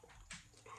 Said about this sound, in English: Right now, I have a dog that's making noise.